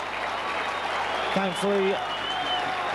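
A crowd at a rugby league match between Widnes and Leeds applauds steadily, a broad, continuous wash of clapping from the stands while a commentator speaks over it.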